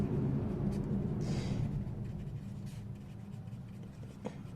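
Pen or chalk writing notes during a biology lesson, a faint continuous scratching with short strokes under a quiet room hum.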